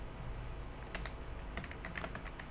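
Quick, light keystrokes on a computer keyboard as a bank name is typed into a Google search: a single tap, then a denser run of clicks, close and fairly quiet over a low room hum.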